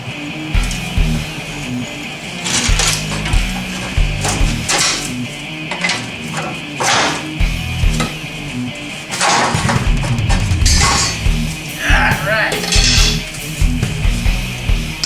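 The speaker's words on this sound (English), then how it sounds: "always remember, pull the shock absorber out first" A car shock absorber being pulled out of its suspension, with scattered metallic clanks, knocks and scraping thuds that come in uneven bursts close by. No one talks.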